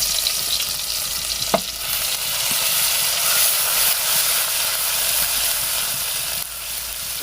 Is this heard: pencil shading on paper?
no